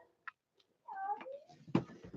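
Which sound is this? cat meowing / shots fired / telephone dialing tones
cat meowing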